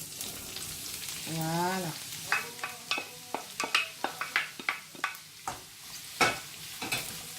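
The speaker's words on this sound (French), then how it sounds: "je vais commencer par mettre mon poireau, mon fenouil et ma courgette" Leek, fennel and courgette hitting a hot wok of olive oil, a steady sizzle broken by a string of clattering stirs and scrapes, close, with one brief spoken word.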